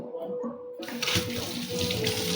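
Tap water runs steadily into a sink as drinking straws are rinsed underneath, starting after a short quiet moment and continuing as a close, splashing stream with no talk.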